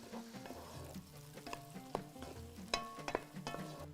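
Onion frying in a pot with herbs for Bahraini machboos, a steady close sizzle broken by the repeated clack and scrape of a spoon stirring against the pot, with no voices.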